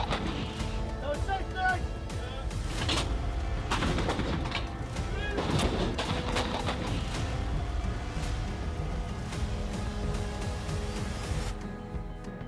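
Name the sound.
artillery fire from a self-propelled gun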